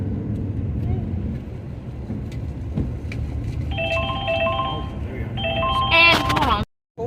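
A phone rings with an incoming call inside a car riding back roads, short electronic tone bursts over steady engine and road rumble, with chatter beneath.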